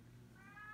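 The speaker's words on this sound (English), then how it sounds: "one of my cats wants in the craft room with me, so he's yelling at the door" A pet cat named Mischief yells at a craft room door. A single faint, brief, rising meow sounds in a quiet room.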